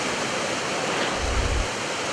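Floodwater from an overflowing creek rushes loudly and continuously as a dense broadband roar, with a brief low surge midway; no voices are heard.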